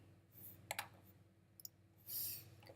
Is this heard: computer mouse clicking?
yes